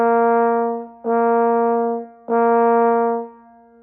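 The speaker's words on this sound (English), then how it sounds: "let's go ahead and play 4 B flats on top of the staff, focusing on a clear and crisp front to each note" Trombone sounding crisp B flats high on the staff, three steady sustained tones in view, each with a clean, sharp front and a brief gap before the next.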